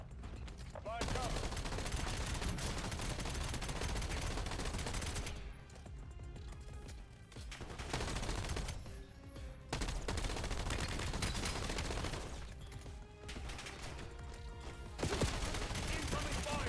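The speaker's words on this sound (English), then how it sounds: "Incoming fire." Incoming bots fire rapid automatic weapons in Call of Duty: Black Ops 7, producing loud, sustained volleys with brief lulls between bursts. A voice speaks intermittently over the shooting.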